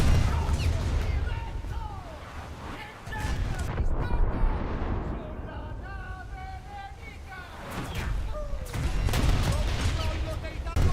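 Warship guns boom in a naval combat video game as a destroyer comes under fire, with loud repeated blasts and crashing impacts over engine rumble and a radio voice.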